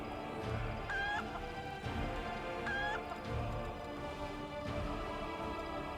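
A chicken in the video game Wrath of the Righteous clucks in short repeated bursts, faint over a steady low game ambience, with no talk.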